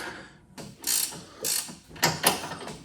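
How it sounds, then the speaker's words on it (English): A threaded rod is cranked by hand to slowly raise a 1997 Mustang Cobra motor, giving several separate bursts of metallic ratcheting clicks with short pauses between, close by and without talking. "I'm now just cranking it up here by the threaded rod, and it's moving up very slowly"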